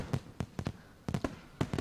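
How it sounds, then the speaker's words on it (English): Fireworks bursting in a visual novel game: a run of sharp, separate cracks and pops arriving in uneven clusters, each a short broadband bang, moderately loud against a quiet background. "Fireworks."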